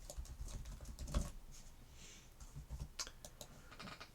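Computer keyboard keys are pressed in quick, faint irregular taps and clicks, close by and quiet.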